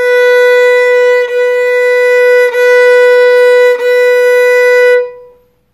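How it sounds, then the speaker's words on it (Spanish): A single sustained violin note B, bowed on the second string, rings out, repeated in four long strokes with brief breaks between them, then fades away. "Y en el violín se toca en la segunda cuerda"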